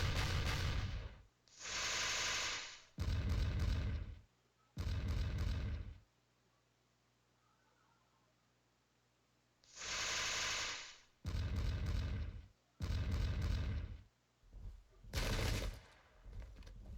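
Cannon fire booms in the Sengoku Jidai strategy game, heard as a series of loud, roughly second-long blasts separated by quiet gaps, with a denser cluster of shorter bursts near the end.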